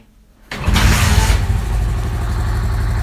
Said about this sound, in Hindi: आपने सिंपली बाइक को स्टार्ट करना है,